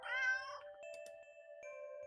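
A stray cat in a dirty old alley in the video game Do Not Take This Cat Home gives one drawn-out, loud meow, then falls quiet while steady tonal background music plays on.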